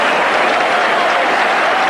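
A large football stadium crowd at Newcastle v QPR in 1982 applauding, a dense, loud, continuous roar of clapping with a commentator's voice faintly under it.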